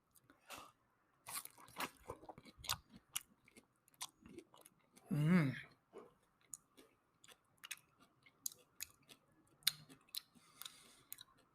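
Crunchy bites and chewing of a half ring of fresh pineapple, close up: a quiet scatter of sharp crackles and clicks with one louder, fuller crunch in the middle, no talk.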